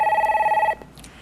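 A telephone rings loudly in a single pulsing burst, then cuts off abruptly as a caller is connected live on a televised stock-market broadcast, leaving a quiet line.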